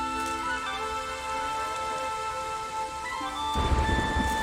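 A storm in The Witcher 3 video game, steady rain hiss under tonal background music, then a deep rumble of thunder rolling in near the end.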